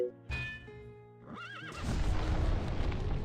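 Horses neigh and whinny amid clip-clopping hooves in an Age of Empires–style strategy game match, with cavalry such as cataphracts and light horse; a rising whinny over busy, loud battle noise, no talking.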